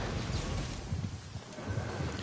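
Lightning thunder in the video game Genshin Impact rumbles low and heavy, a rolling crackling storm with rain-like hiss, fairly loud and continuous.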